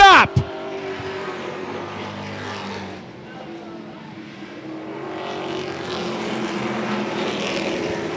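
Race cars scream out of turn 4 on an oval track, a loud sustained engine roar that swells and fades as the pack passes, with a commentator talking over it.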